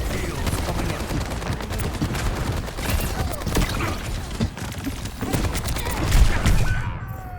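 Dense Overwatch gunfire from a Soldier: 76 style hero, rapid bursts and continuous shooting layered with clacks and booms of a team fight, loud and unbroken throughout, with a voice faintly mixed in.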